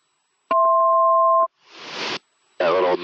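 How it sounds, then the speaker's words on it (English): A two-tone electronic alert chimes in an aircraft cockpit on approach, marking 200 feet above minimums: a steady beep about a second long, then a burst of radio hiss and a noisy transmission. "That little noise right there means you're 200 for minimums."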